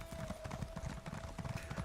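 A horse gallops in Elder Scrolls Online, its hooves drumming in a steady fast rhythm, quiet but continuous, with a faint tone held underneath.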